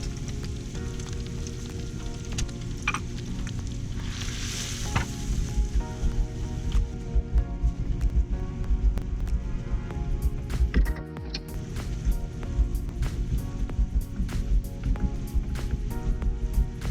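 Bulgogi-style soy sauce with ground beef simmering and reducing uncovered in a pan, a continuous bubbling sizzle with rapid ticking pops over a low steady rumble, lasting the whole stretch.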